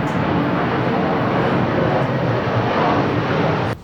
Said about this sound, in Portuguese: É uma moto.